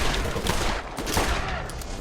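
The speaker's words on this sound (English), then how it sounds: "I've got a fast shooting SMG" Fast-firing submachine gun in the shooter Borderlands, a dense, continuous rattle of rapid shots up close, with loud explosive impacts mixed into the steady barrage.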